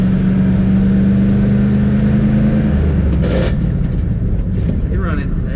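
A 1979 Dodge D100 step-side pickup, a barn find that had sat unused, revs and accelerates in second gear, a loud steady engine drone with a rising tone at first, then rougher rumbling under road noise.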